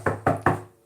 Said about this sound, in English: Getting a knock at the door.